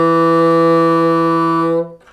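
A single sustained reedy bassoon note E, held steadily and cleanly for about two seconds before cutting off.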